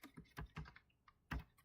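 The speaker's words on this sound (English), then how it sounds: "I'm typing that in right now." Clicks from a computer keyboard come as short, irregular bursts of keystrokes with brief pauses between them, close by and fairly quiet.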